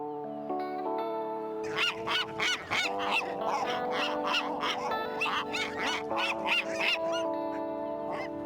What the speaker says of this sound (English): Okay, well, I made all the seagulls angry.